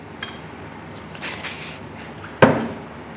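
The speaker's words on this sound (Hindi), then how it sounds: "स्प्रे" A short hiss of hairspray misted onto backcombed hair lasts about half a second at close range, followed by a sharp clack of the can being set down.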